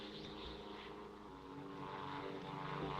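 A propeller airplane drones overhead in a steady, distant hum that swells slightly toward the end, with no voices.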